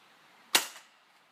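A single sharp shot from a JG Star Dragon airsoft gun fired on semi-auto, a loud close crack with a short fading tail against quiet background.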